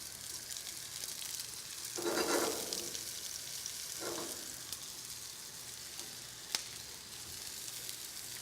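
Oyster mushrooms and shallots frying in oil in a pan, a steady close hiss of sizzling with two brief louder bursts as food is stirred or added, and a small sharp clink near the end.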